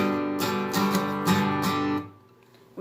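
An acoustic guitar chord, fretted with the pinky on the bottom E string, is strummed in several bright downstrokes before ringing out and fading to near silence, with no voices.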